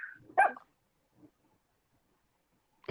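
A dog gives one short bark close by, followed by a faint second yip, with near silence around it.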